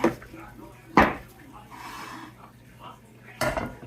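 A hot cast-iron skillet with melted butter is handled in a kitchen, giving a few distinct metallic clanks and knocks against the stovetop or counter over a quiet room hum.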